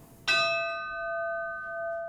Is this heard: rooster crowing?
no